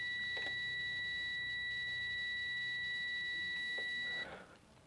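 Multimeter continuity beep while probing the body of an old TV's tuner, a steady high electronic tone held for about four seconds before cutting off, faint handling clicks alongside.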